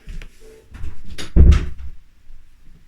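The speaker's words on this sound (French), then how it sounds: "Je ferme la porte pour pas que vous entendiez la musique" A door swings shut nearby with a soft creak, then a solid thump, followed by a brief rattle and quiet room noise.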